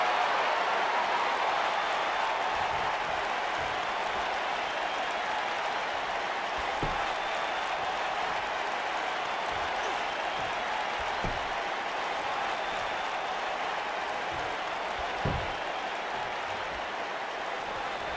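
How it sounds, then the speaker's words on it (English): An arena crowd roars and applauds steadily throughout a WWE 2K wrestling video game match set in Philadelphia, a dense, continuous wash of cheering with a few low thuds from the ring. "We've got a raucous crowd here in Philadelphia tonight"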